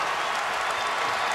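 A basketball arena crowd roars and applauds in a steady, broad wash of cheering during a UCLA versus Kentucky game, with no distinct voices standing out.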